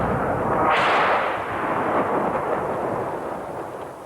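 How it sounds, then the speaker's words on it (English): Debris crashes down amid heavy bombardment in Karlovac, a Croatian front-line stronghold, in 1991: a dense, roaring rumble with a loud burst near the start that rolls on steadily and slowly fades. "That was the debris falling down,"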